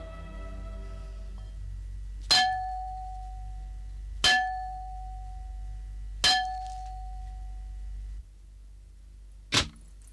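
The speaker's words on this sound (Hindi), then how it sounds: "तुमने ये घंटा बजाया है?" A large bell is struck three times at steady intervals, each clang ringing out and slowly decaying, followed by a shorter, sharper metallic strike; no talking.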